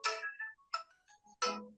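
A mobile phone ringtone plays a short, clear electronic melody in three bright bursts with brief gaps between them, close and alone with no talk.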